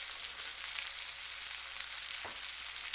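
Kunekune pork chops sizzle in a frying pan with a steady, close crackling hiss, interrupted by one brief low thump.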